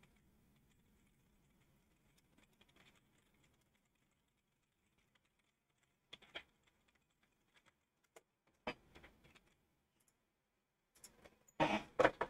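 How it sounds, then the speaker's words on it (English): Sparse bursts of typing on a computer keyboard while playing Agricola on Board Game Arena, quiet clusters of clicks separated by long near-silent gaps, louder toward the end, no voices. "So that's something I'm going to type in."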